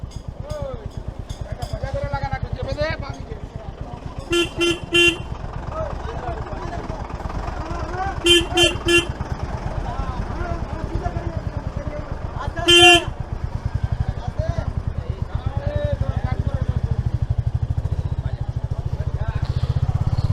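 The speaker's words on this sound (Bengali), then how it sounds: "ও ভাই, বিশাল জাম। রাস্তা বন্ধ করে গেছে এখানে।" A traffic jam on a road blocked by local residents near Ghatal after the 2024 floods, with a motorcycle engine idling close by and several short vehicle horn honks over people talking.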